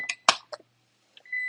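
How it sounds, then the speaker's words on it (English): A kitchen timer giving a few short electronic chirps and clicks, then starting a steady high beep, close and clear in a quiet room. "Oh, there's my timer."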